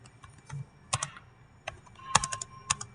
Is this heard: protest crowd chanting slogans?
no